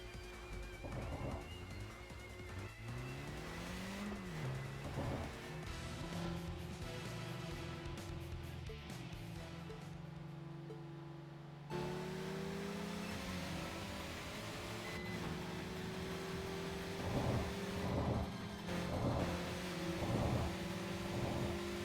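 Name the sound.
cars driving and racing in the video game TXR 2025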